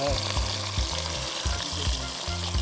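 Onions sizzle and fry in a pan during outdoor cooking in the jungle, a loud continuous crackle with rhythmic stirring scrapes recurring about every half second.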